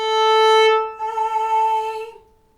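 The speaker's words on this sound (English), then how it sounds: "To get that nicely in tune, I might play an open A first." A single sustained bowed violin note on the open A string rings steadily, with a brief bow change midway before it fades out, close and alone.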